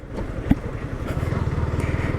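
A Yamaha R15M sport motorcycle engine under way, a steady rhythmic pulsing drone that firms up and grows denser partway through as it pulls, with a brief thump and wind noise around it.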